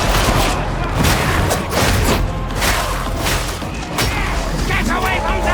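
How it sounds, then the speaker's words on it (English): Dense combat din from the Darktide video game, with repeated booming blasts and a rattling fusillade stacked into a loud, continuous wash, and voices calling out over the chaos. "Look out! It's going to explode!"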